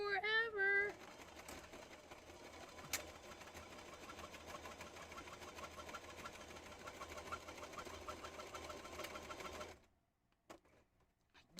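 A sewing machine runs steadily at close range for most of the time, its rapid needle clatter humming continuously before stopping abruptly near the end, with a brief voice at the start.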